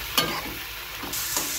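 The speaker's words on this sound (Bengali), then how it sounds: "এবার একসাথে তিনটাকে একদম ভালো করে কষিয়ে নেওয়ার মতো করে নাড়বো।" Mashed potato mixture is stirred and fried in oil in a pan, with close scraping strokes of a spoon over a steady sizzle, no talking.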